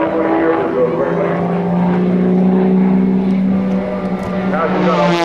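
Patty Wagstaff's aerobatic propeller airplane flying a rolling loop at the 2005 NAS Patuxent River Air Expo, a loud steady engine drone with wavering pitch, a commentator talking over it.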